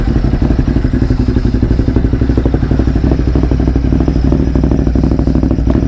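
A motorcycle with its exhaust baffles removed idles loud and close, its rapid, lumpy pulses firing in a steady, rough rhythm with a clattery mechanical edge.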